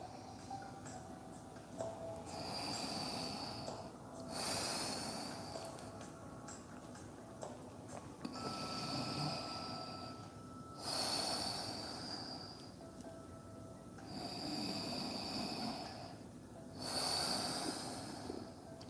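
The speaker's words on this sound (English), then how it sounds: "Try and fill your lungs completely with air and exhale all of the air out." Slow, deep yoga breathing, four long cycles of audible inhales and exhales through the nose and mouth, close and steady, with a faint ticking in the background and no talking.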